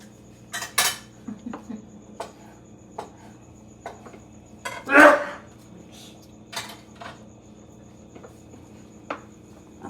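Bilo-bilo is stirred in a pot at home, with scattered spoon clinks and scrapes against the pot over quiet, steady cricket chirping in the background.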